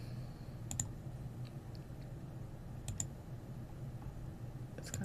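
Computer mouse clicks during Unity editing, a few sparse, crisp double clicks at irregular intervals over a quiet hum, close but faint, no one speaking.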